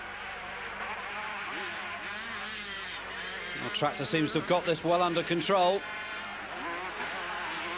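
Motocross motorcycles, including a KTM, race over jumps at a 1991 event, their engines a steady distant drone that briefly rises and pulses as bikes rev through the course, under continuous commentary.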